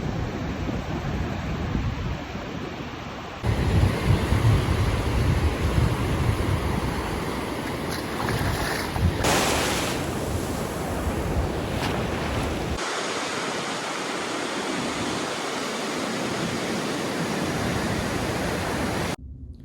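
Ocean surf breaks at a beach where two surfers are out, a steady, full roar of crashing waves mixed with gusty wind buffeting the microphone throughout.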